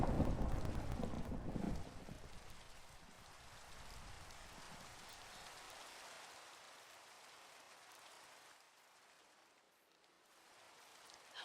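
Steady rain in the game Minecraft during a thunderstorm, a dense hiss that starts loud with a heavy low rumble over the first seconds, then thins to a softer, even patter that fades slightly before swelling again at the end.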